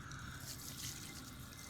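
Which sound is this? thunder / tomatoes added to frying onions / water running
water running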